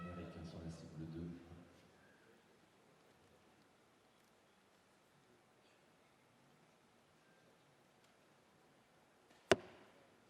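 A single sharp arrow release and impact from a compound bow at a target, loud and brief near the end, following quiet crowd murmur and an early spell of voices at a men's gold final archery match in Nimes.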